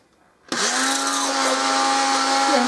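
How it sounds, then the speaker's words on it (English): A Moulinex turbo mix hand blender purees cooked vegetable soup. Its motor starts abruptly and then holds a loud, steady whir with a constant pitch, running alone without a break. "is just to turn it into puree, and I've just got one of these Moulinex turbo mixes"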